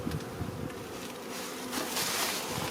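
Bees buzz steadily around a wooden beehive box, a continuous close hum that swells slightly louder toward the end.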